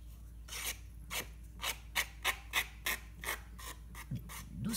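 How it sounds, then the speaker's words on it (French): A nail file lightly rasps the rough edges off a paper card in about a dozen short, regular back-and-forth strokes. Each stroke is a crisp scratchy rub, close and fairly quiet. Between strokes there are small gaps, and no voice is heard. "je prends une lime à ongles et je viens limer légèrement, comme ça"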